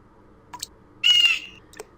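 A single bird in the puzzle game Windosill gives a short bright chirping call, preceded and followed by a couple of faint soft clicks in an otherwise quiet scene.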